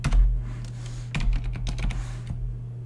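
A computer keyboard as shift is held and the arrow keys are pressed, giving a short run of soft, close clicks and taps in irregular rhythm, with no voice.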